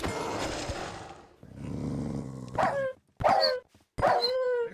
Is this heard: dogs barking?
yes